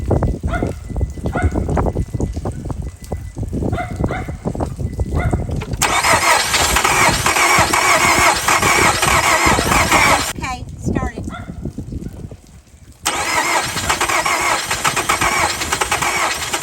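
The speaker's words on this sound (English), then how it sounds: "It's ready to start the car." A car engine cranking and firing up in winter outside a tiny house, with rough starter bursts turning into a steady loud roar, a brief drop, then the roar again, while a dog barks and people talk.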